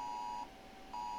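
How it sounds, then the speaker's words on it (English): Steady electronic alert tone from a mobile phone sounding an Amber alert, a sustained beeping pitch that breaks off briefly and then resumes, loud and close with no voices. "Check my phone real quick. Okay. Amber alert."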